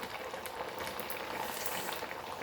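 Tapioca patties of sabudana vada frying in oil in a home kadai, a steady dense hiss and crackle with scattered bright pops, close and continuous throughout, no talking.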